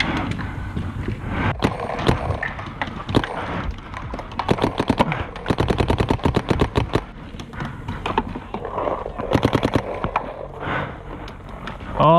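Planet Eclipse LV2 paintball marker firing in rapid bursts of sharp, closely spaced pops, several strings of shots over outdoor background noise.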